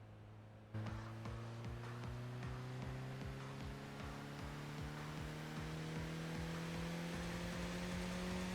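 Car engine in the racing video game Tokyo Xtreme Racer, a steady hum that kicks in and then climbs slowly in pitch as the car accelerates on a long drive, with regular rhythmic ticks passing along the road.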